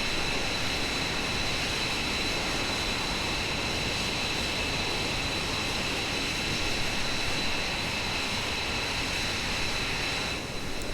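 Steady broadband roar of an F-22 Raptor rolling along the runway after landing, loud and continuous with no talk.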